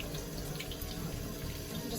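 Water runs steadily from a kitchen faucet while vegetables are rinsed, a soft continuous splashing stream at close range with no talking.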